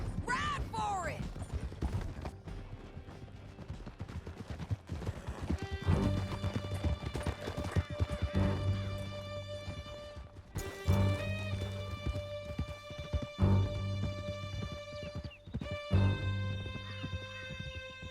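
Horses gallop with steady, rapid hoofbeats and let out occasional whinnies during an escape through a canyon in Red Dead Redemption 2, with music and brief shouting voices layered over the riding.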